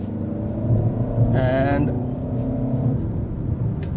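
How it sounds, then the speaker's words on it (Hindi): A used Skoda Kodiaq with a tuned TDI diesel engine accelerates in D mode, giving a steady low engine rumble close up while someone talks over it. "तो D मोड में विल सी के 100 तक कितनी जल्दी जाती है, ट्यून्ड TDI"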